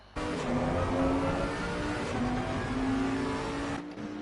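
Onboard race car engine at Donington in Assetto Corsa Competizione, a sustained droning engine note holding steady with slight pitch shifts, loud and close, starting abruptly and cutting off near the end, with no talk.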